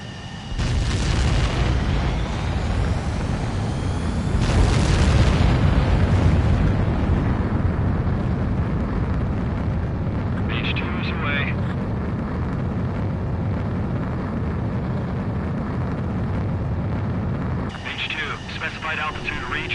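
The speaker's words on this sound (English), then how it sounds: "Mage 2, begin takeoff sequence." A fighter jet takes off in the video game Ace Combat 7, with a loud, continuous roar of jet engines that swells and surges partway through and stays dense and powerful to the end.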